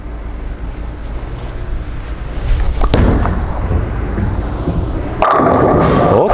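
Track Strata Hybrid bowling ball rolling down a freshly oiled lane, a low rumbling roll ending in a sharp crack of pins being struck, followed by clattering, loud and close.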